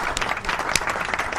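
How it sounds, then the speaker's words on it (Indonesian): A short burst of applause, many hands clapping at once in a steady patter at moderate volume. "tepuk tangan sikit"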